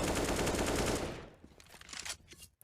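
Rapid burst of heavy gunfire in the CS:GO video game on the Cache map, a sniper wallbang through a garage wall, loud and dense for about a second before fading into faint scattered clicks.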